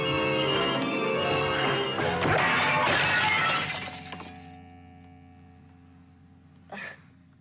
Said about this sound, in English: he shatters that glass